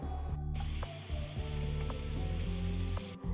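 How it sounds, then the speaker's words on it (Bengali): Onions fry in a pan for palak paneer, a steady close sizzle with a few light clinks of stirring and no talk. "পেঁয়াজটাকে এখানে আমরা হালকা লালচে করে ভেজে নেব"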